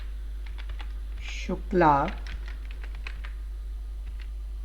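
Computer keyboard keys tapped in short irregular bursts while entering a name into Tally accounting software, light close clicks, with a brief spoken word partway through over a steady low hum.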